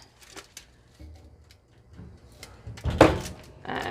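A convection oven door opens in a home kitchen with a clattering metallic swing near the end, preceded by scattered light knocks and handling sounds, close by.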